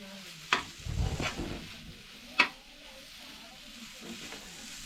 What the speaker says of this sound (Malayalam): അത് നല്ല രീതിക്ക് മസാല നമ്മുടെ കല്ലുമ്മക്കായും അതുമായിട്ട് നല്ല രീതിക്ക് യോജിപ്പിക്കുക